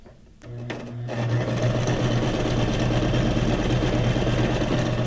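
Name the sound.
sewing machine sewing a zigzag stitch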